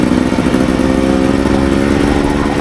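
A Beta 300 Xtrainer two-stroke dirt bike fitted with an FMF pipe runs steadily at fairly low revs, a loud, continuous close-up engine drone with no talking.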